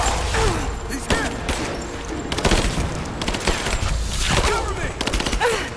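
Sustained gunfire and bursts of automatic weapons in the video game Rise of the Tomb Raider, loud and continuous with sharp repeated shots under shouted voices.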